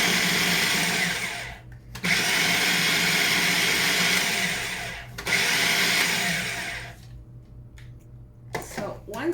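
A food processor pulses butter into dry biscuit ingredients in loud, whirring bursts of a few seconds each, separated by short pauses, with a couple of quieter short pulses at the end.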